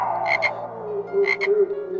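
Frogs croaking up close, two short double-pulsed croaks about a second apart over a low steady background hum.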